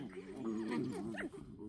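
Several puppies and dogs, six pups and five adults full of energy after feeding, make close whimpers and yips in a short, quiet burst.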